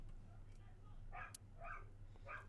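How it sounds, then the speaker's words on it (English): A dog barks faintly in the background, three short barks spaced apart under a steady low hum. "Dog is still barking."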